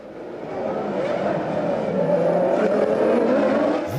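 Formula 1 cars from 1998, a Benetton and a Ferrari, racing wheel to wheel: a loud, continuous engine roar that builds steadily and holds at full volume, with no talk over it.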